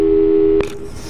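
Telephone busy signal in the video game Portal 2, a loud steady electronic tone that cuts off abruptly with a click, followed by faint room hiss.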